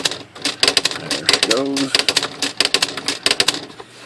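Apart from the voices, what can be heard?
Smith Corona electronic H series typewriter typing with correction ribbon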